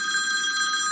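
A phone ringing with a steady electronic ring tone, loud and close, filling the whole short moment with no talking over it.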